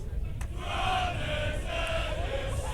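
Old Sherburnian supporters at a schools cup rugby semi-final between Sherborne and Whitgift roar and chant steadily near the commentary position. Their massed voices form a dense, continuous wall of cheering.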